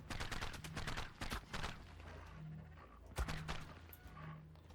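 Gunfire from a turret in the video game ARK Ascended, on the Extinction map: a fast volley of rapid, repeated shots at the start, then quieter, scattered impacts and a single sharper crack, all fairly faint.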